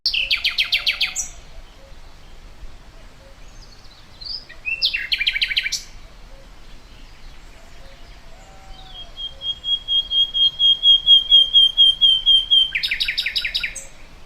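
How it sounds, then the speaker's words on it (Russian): A nightingale sings alone in a few clear, bright phrases separated by pauses, including a sustained run of rapid repeated notes near the end. "Вы, конечно, узнали пение соловья."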